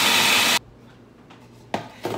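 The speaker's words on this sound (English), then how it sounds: "do you really need to see how this is ground up?" Pretzel linzer cookie ingredients grinding in a loud burst of harsh, coarse whirring that cuts off abruptly, followed by quiet and two shorter grinding bursts near the end.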